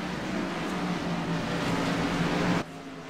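Race cars in a CMC Sportsman Series race at Road America roar past with a sustained engine drone that swells slightly and then drops off abruptly near the end, leaving a lower background hum.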